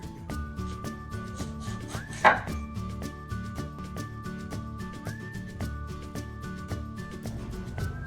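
Half a cucumber being chopped for a romaine lettuce salad, a quick steady run of knife taps on a cutting board, close and clear with no talk.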